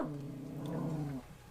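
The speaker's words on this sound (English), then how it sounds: "Jesse, don't bark at me, mister." A pet dog named Jesse gives a low, sustained growl close by, a steady rumbling that runs for over a second before cutting off, with no other voices.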